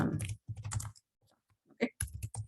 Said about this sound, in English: Okay, I'm gonna type.